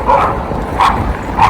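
Dogs barking at an off-leash dog run in New York City on a snowy day, three loud barks spaced evenly over a steady outdoor rumble.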